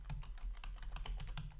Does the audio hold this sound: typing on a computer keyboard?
yes